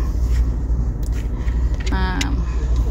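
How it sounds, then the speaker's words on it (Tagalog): Heavy road traffic near a stoplight, with many cars passing close by in a continuous loud low rumble, plus a brief higher whine and a jangle partway through. "Marami lang sasakyan, no?"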